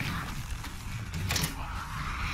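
Door creaking in Resident Evil 7: a steady, grinding mechanical creak runs throughout, loud and close, with a sharper rising squeal partway through and no talk.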